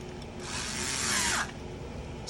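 A power driver briefly screws a part into a Nerf wheellock musket, giving one steady whirring burst of about a second that winds down toward its end, heard close with no talk.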